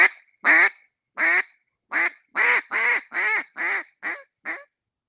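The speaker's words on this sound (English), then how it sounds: "it's a single reed duck call. You just put the air in it." A single reed duck call is blown in a quick series of about ten loud, close, raspy quacks, the notes descending in a rhythmic cadence with no other sound between them.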